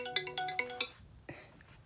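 A phone rings with an incoming call, its ringtone a quick run of bright chiming tones repeated four times in a steady rhythm, followed by a fainter fragment of the melody, heard fairly quietly in a still room.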